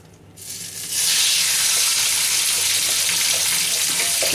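Chicken hits very hot, nearly smoking oil with a sudden loud burst of sizzling that settles into a steady, dense frying hiss, close and continuous.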